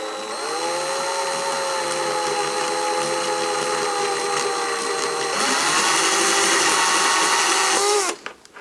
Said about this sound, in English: I'm going to do is just gently drill out a bit more of this neck hole to make that slightly larger